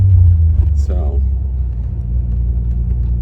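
A car rolls slowly through a parking lot, its engine a steady low rumble throughout, with someone talking over it near the start.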